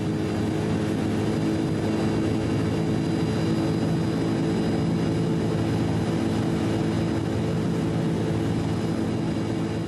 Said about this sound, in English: Powered by a turboprop, the Pogo made its first complete vertical takeoff and landing in November